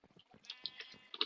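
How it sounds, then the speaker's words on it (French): Sheep on a Minecraft sheep farm bleat in short, thin game-style cries, several quick overlapping calls rising toward the end, quiet and close with no voices. "Une petite ferme à moutons pour que je puisse avoir de la laine"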